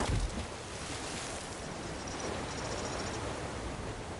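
Steady rushing waterfall behind a dreary cave in Elder Scrolls Online, a broad even roar of falling water that holds at a constant level throughout, with no talk over it.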